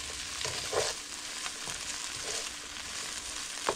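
Spam sizzles and fries in oil in a pan, a steady crackling hiss with occasional louder pops and stirring scrapes.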